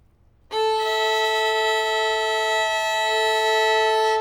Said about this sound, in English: So have a listen to me tune my E string.